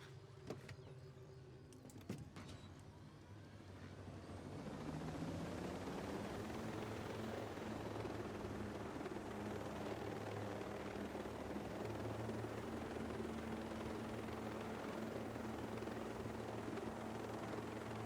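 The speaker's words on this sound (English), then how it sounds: "Chopper, chopper, chopper, chopper." A helicopter in the video game Ghost Recon: Breakpoint approaches, a few clicks and thumps giving way to a steady, rising rotor roar that grows and then holds as a loud, continuous whir.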